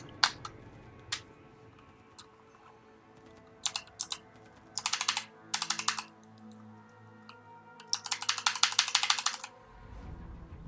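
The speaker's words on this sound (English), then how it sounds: "Why is the keyboard not working?" Computer keyboard typing and clicking: sparse single key taps at first, then quick bursts of rapid keystrokes, ending in a longer clattering run of typing, near and clear with no voices.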